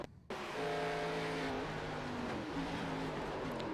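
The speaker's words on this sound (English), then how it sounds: "Just slid the tires, and here comes the wall." Race car engine drone in the iRacing game, with tires sliding before the car hits the wall; a steady loud engine tone with shifting pitch holds throughout after a brief quiet start, with no clear squeal or impact standing out.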